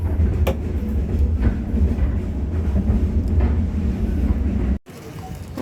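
Steady low rumble of a train interior or platform at a station in Ho Chi Minh City, Vietnam, with a few faint clanks, then an abrupt cut near the end; no talking.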